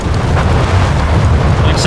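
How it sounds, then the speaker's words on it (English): A carpet bombing run in the WWII strategy game Company of Heroes 3 produces a continuous, heavy rumble of overlapping explosions, loud and dense throughout, with a voice faintly present beneath. "We got another carpet bombing run here from Spectre."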